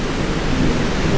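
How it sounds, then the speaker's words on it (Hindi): Heavy, steady rain pours down in Delhi during a thunderstorm, with thunder rumbling through a dense, continuous wash of close, loud noise and no talking. "दिल्ली और गाजियाबाद की तस्वीरें, जहां सुबह से बारिश हो रही है"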